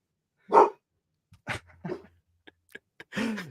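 Barney, a pet dog, lets out a sharp close sneeze, then a few short snorts and small barks with quiet gaps between, ending in a brief whiny bark.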